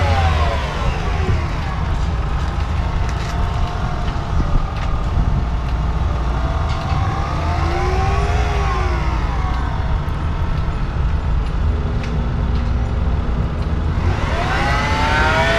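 A car driven by a very elderly driver on a street in Japan accelerates hard, its engine roaring and rising in pitch against loud, continuous road and traffic noise, with a few swelling tonal sweeps from passing vehicles.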